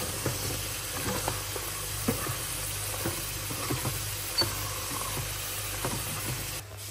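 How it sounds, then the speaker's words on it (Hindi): Food frying in a home kitchen pan with a continuous close hiss and sizzle, dotted with light clicks and stirring taps throughout. "इसको मैं फ्राई कर लेती हूँ जल्दी से"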